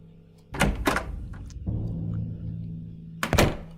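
Heavy door in the horror adventure game Scratches thunks open with a low wooden knock and a rumbling creak, followed by a drawn-out low groan and a second sharp knock near the end, with no talking.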